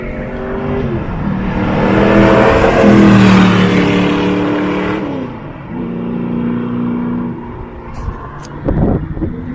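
A TWR Ultima GTR race car on the Goodwood track: a loud engine note climbs through rising revs, shifts and swells as the car passes close by, then fades and burbles with a few sharp pops near the end.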